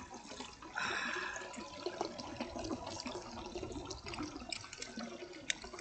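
Water poured out in a steady splashing stream, close and moderately loud, with a stronger gush near the start and small drips and trickles continuing throughout.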